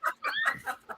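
Chickens cluck close by in quick, rapid squawking bursts, several calls packed into about a second.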